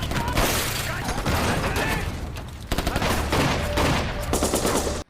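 Dense gunfire in a film action scene as a drug lord's men are ambushed and surrounded, loud rapid bursts and volleys of shots with clattering impacts, mixed with shouting voices, cutting off abruptly at the end.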